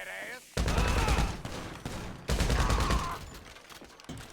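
Heavy machine gun fire roars in GTA Online, two long sustained dense bursts separated by a short pause, loud and close, with a final brief burst at the end.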